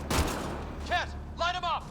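Grenade blasts in the sci-fi shooter Mass Effect Andromeda, a sharp explosion followed by two more bursts with whining, sweeping tones, fairly faint over ambient game noise.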